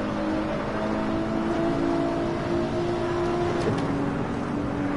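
A Nissan GTR engine in the Assetto Corsa racing game drones steadily throughout, with a constant mid-pitched hum that holds level with little change in revs.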